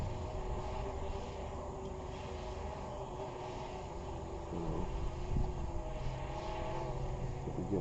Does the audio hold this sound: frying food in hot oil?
no